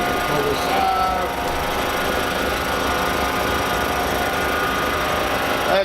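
A homemade DIY lapidary machine spins steadily, a dense continuous whirring hum with a mechanical rattle, loud and close, running without pause throughout.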